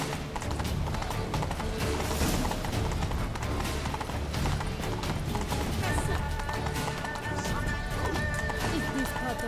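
Horse galloping in The Witcher 3: Blood and Wine, a steady rapid clip-clop of hooves running under busy game music and ambience, with a voice talking over it and a whinny.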